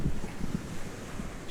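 An ocean wave washing up the beach at Fingal Bay, a close rushing wash of surf with heavy wind buffeting the microphone and low thumps, no talking.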